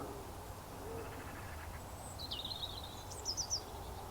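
Faint, distant bird calls over a quiet allotment: a few short chirps and a brief run of high notes near the end, barely above soft background hiss.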